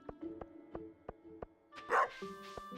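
A dog in the Stardew Valley farming game barks once, fairly loudly, partway through, over a quiet, regular plucked-note music loop and faint game tones.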